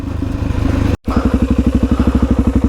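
A Suzuki DRZ400E dirt motorcycle labours up a steep trail in the Australian Blue Mountains, its single-cylinder engine chugging in loud, rapid pulses close by, briefly cutting out for an instant before the thumping resumes.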